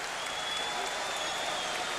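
A boxing crowd at the James Toney vs John Ruiz WBA heavyweight title fight cheers and applauds after the tenth round, a loud, steady wash of clapping and crowd noise with commentary mixed underneath.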